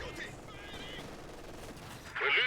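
MG42 machine gun fire from the Company of Heroes 2 battle game rattles in rapid bursts against a busy battle backdrop, ending with a louder, sharper volley.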